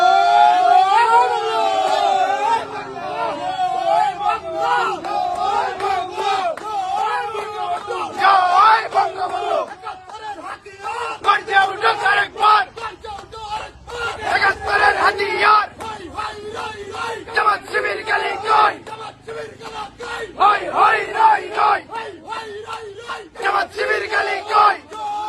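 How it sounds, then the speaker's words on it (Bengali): A large crowd of Chhatra League supporters chants a political slogan in unison at a Bangladeshi political gathering; a loud, rhythmic, repeated collective shouting that carries on steadily throughout. "স্লোগানটা একটু শুনুন।"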